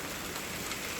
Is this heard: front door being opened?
no